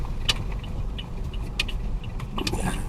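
A car turns right during a driving lesson, its steady low engine and road rumble heard from inside, broken by a few faint clicks and light knocks, with no talk.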